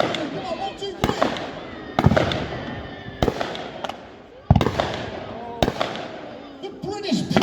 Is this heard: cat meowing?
no